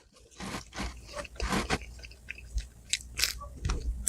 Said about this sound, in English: There's like a crunch in every bite.